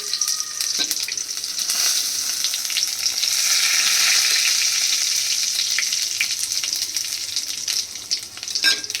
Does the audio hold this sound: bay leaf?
yes